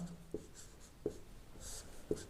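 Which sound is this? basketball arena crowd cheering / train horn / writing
writing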